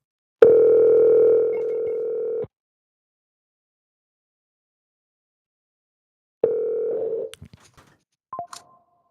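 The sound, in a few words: telephone call dialing and connecting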